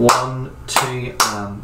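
Hands clap three crisp, evenly spaced claps in an eighth-note rhythm as a voice counts along over each clap.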